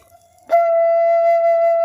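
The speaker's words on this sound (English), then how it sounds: "this is F scale flute" An F-scale flute enters sharply with a single held, pure note that carries steadily for over a second, solo and fairly loud, without speech.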